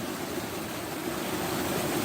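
Continuous rushing of a flowing stream in Ireland, an even, close wash of water with no voices and no breaks.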